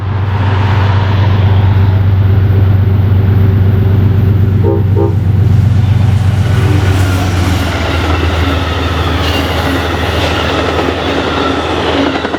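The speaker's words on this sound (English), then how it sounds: "next was Amtrak P284 on its way to New York Penn Station with a P32 ACDM number 705 leading" Amtrak P284, a passenger train led by P32AC-DM locomotive number 705 on the CSX Mohawk Sub, rumbles past loud and close, its horn sounding over a steady roar of wheels and rolling cars.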